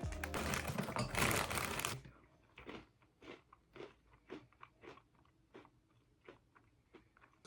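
Crunchy pistachio-flavoured cereal chewed up close: a loud opening burst of crunching, then about a dozen distinct, evenly spaced bites and chews, each a short crisp crackle, with no talk.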